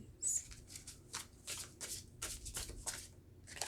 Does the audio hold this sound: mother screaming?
no